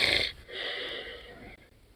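A human voice imitates a sleeper's heavy inhales: a loud, snore-like breath, then a second, longer rasping inhale, both close up.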